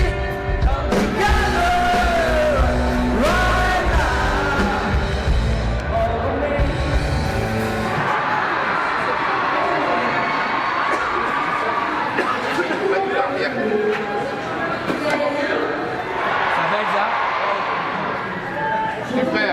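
A sold-out concert crowd at the Zénith in Paris screams and yells in a dense, loud roar that swells and then eases slightly, with voices calling out throughout.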